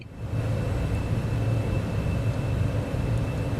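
Steady engine roar of a Cessna Citation X business jet taking off in Microsoft Flight Simulator 2024, a constant low rumble with a thin high whine, loud and unbroken with no talking.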